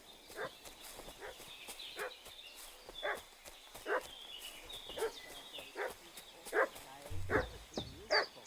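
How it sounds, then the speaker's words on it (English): A dog in Kingdom Come: Deliverance II barks repeatedly at a moderate distance, sharp yaps roughly once a second over quiet outdoor game ambience, with a brief low thump near the end. "What's that dog making such a fuss about?"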